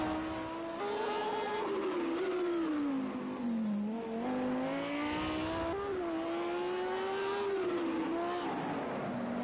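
An Audi race car in a PS4 racing game on the Long Beach street circuit, its engine whining steadily with repeated gear shifts and revs, rising and falling through corners, with tyre squeal and other cars nearby.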